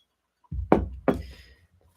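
Two solid knocks from a big bronze owl-shaped door knocker strike close by, each a heavy metallic thud that fades away, spaced about a third of a second apart.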